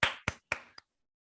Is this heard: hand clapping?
yes